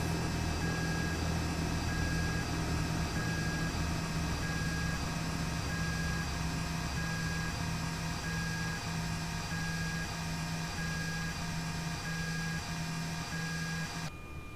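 Aircraft avionics and gyros spinning down after switch-off in the X-Plane 12 flight simulator, aboard the JF/Thranda Duchess twin; a steady, fairly loud electrical hum and whine with a faint high tone, running on evenly before cutting off near the end.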